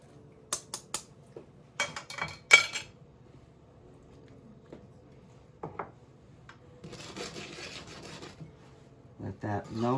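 Parmesan cheese grated by hand in a kitchen, short bursts of scraping with clinks of metal between them and a longer rasping stretch later, close and fairly clear, no one speaking during it.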